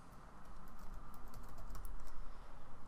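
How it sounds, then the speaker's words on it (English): Fingers tap out a quick burst of keystrokes on a computer keyboard, light clicky strikes in an uneven run, close and fairly quiet, with no talking. "I type in the intersection name."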